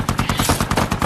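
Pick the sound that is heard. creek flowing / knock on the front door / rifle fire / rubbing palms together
rifle fire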